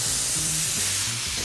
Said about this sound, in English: Marsala in and flambe.